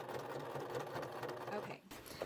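Pedal-driven sewing machine stitching a pocket onto a tote bag, a steady whirring motor run that stops briefly near the end before restarting, quiet and close with no talk.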